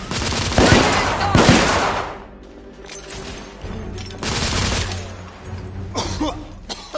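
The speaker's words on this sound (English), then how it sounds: "Lay down suppressive fire!" Gunfire bursts loudly in the video game The Order 1886, rapid volleys of suppressive fire crackling in several long bursts with shorter shots between them, mixed with battle noise.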